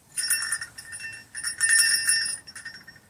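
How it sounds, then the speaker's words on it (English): A Pistol brand bear bell jingles in quick, bright bursts of tinkling metal, shaken unevenly for about three seconds, close and fairly quiet. "That is a Pistol brand bell."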